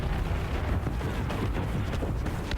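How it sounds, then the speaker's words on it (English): A torpedo strike in Star Wars Battlefront lands as a loud, sustained explosive rumble and crackle of in-game combat, dense and continuous with no talk over it. "Yeah, I thought I got hit with a torpedo"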